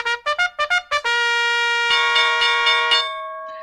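Stock exchange opening bell on a NASDAQ trading day: a run of short bright dings in quick rhythm, then one sustained ringing peal that hangs with pulsing overtones before dying away, clear and close with no talk.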